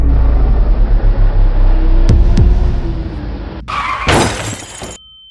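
A car crash in a dramatic scene: a low rumbling engine and impact lead into a loud, bright burst of shattering glass near the end, with debris tinkling briefly before cutting off.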